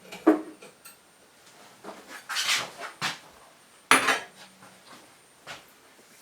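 Metal cutlery and utensils clatter and clink in irregular bursts as someone rummages through a kitchen drawer for a big serving spoon, close and sharp with quiet gaps between.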